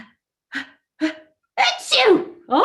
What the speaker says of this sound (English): Achoo! Oh no!